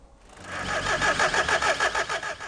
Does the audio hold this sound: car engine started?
yes